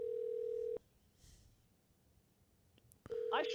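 Unanswered call inside the OneShot video game: a steady electronic ringback tone plays alone for under a second, a quiet pause follows, then the tone comes back mixed with brighter game sound effects.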